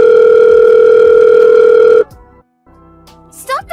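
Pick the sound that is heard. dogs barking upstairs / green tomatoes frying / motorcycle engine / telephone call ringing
telephone call ringing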